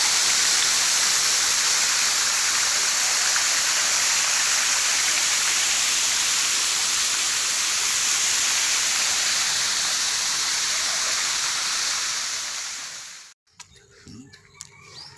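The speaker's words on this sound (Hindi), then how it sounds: "वहाँ से ये पानी जंगलों की ओर आगे निकल जाता है" Water pouring out of a kund and running on through forest in hilly country, a loud, steady roar of flow for most of the stretch, cutting off abruptly near the end.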